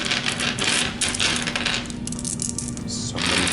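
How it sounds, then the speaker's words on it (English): A large handful of dice rolls across a tabletop during a Warhammer 40k battle, a sustained rattling clatter of many small clicks that thins out briefly before another burst of tumbling near the end. "So many dice."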